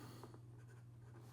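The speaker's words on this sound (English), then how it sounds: "Here we go with the writing sample for the Platinum" Platinum Izumo fountain pen nib writing on paper with Carmel Sunset ink, a quiet, close scratching across a short stretch with a steady low hum beneath.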